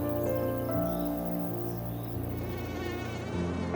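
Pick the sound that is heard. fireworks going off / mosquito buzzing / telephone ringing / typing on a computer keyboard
mosquito buzzing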